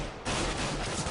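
AK rifle gunfire in a Counter-Strike match bursts in after a short gap as a dense, steady volley of shots that fills the rest of the moment.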